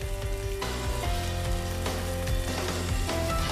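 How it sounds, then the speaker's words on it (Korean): Spanish mackerel coated in starch fries in a pan of cooking oil, sizzling loudly and steadily with crackling pops, close by and with no voices. "식용유를 두른 팬에 삼치를 올리고 튀기듯 앞뒤로 노릇하게 구워준다"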